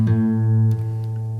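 A guitar's A note played on the low E string during tuning: one sustained plucked tone with rich even harmonics, ringing steadily and fading slightly, alone without speech.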